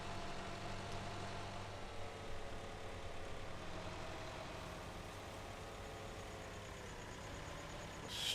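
A tractor engine drones at a low, steady pitch while it drags a heavy wood chipper, a constant close rumble with no break throughout.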